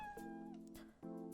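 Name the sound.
cat making a little noise in her throat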